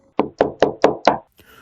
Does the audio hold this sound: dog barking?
no